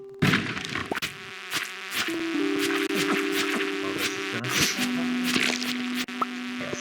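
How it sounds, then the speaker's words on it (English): A bee buzzing in a video game, a steady insect drone with sustained tonal hums that come and go over nearly seven seconds, moderately loud, with no talking. "I'm just gonna have to deal with a third bee on my screen."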